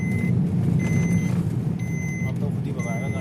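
A vehicle's repeated warning beeps sound on a mountain road trip near Chopta, sounding because the seat lock is not engaged; evenly spaced, fairly loud electronic tones over engine rumble, with people talking throughout.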